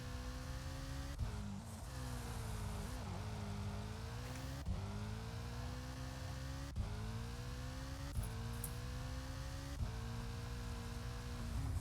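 A rally car engine in Colin McRae Rally 2.0, a Ford Sierra on a wet French stage, drones and revs steadily, dipping briefly at each gear change before climbing again, with occasional faint tyre noise and no voices.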